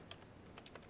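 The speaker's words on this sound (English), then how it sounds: "if I push my bracket keys, I can cycle through them" A few scattered key presses on a computer keyboard while working in animation software, quiet and spaced irregularly with soft clicks, no talking.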